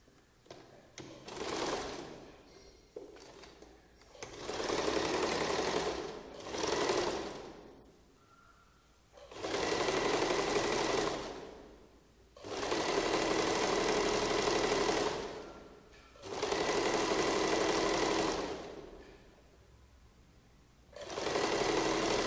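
A sewing machine stitches a sleeve onto a one-piece flared A-line kurti. It runs in repeated bursts of several seconds each, separated by short pauses, and the rhythmic whirring is close and fairly loud.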